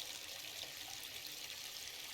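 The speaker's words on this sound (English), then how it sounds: "The bathtub slowly fills with water." Water runs steadily into a bathtub in a video game, a constant hissing pour with a faint splashing trickle, close and even throughout with no voices.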